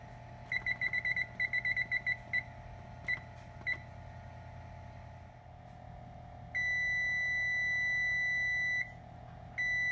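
A kitchen timer for biscuits in the oven beeps in rapid bursts, then pauses, then sounds a long steady tone, clear and close over a low appliance hum.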